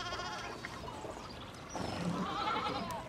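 Sheep bleating in a video game, a drawn-out wavering bleat over a steady bed of ambient game noise, moderately near and fairly quiet.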